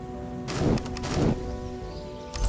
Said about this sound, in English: Today's weather is hail